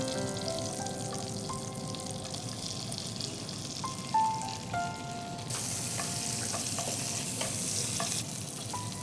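Vegetables sautéing in butter with a little soybean oil in a pan, a continuous close sizzle with light stirring clicks and scrapes, no talking.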